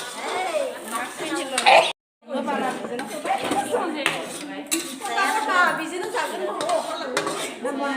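Meat pickle being stirred in a pan, with a utensil clinking and scraping against the metal in an uneven rhythm while someone talks over it throughout.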